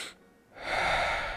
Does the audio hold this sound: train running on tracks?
no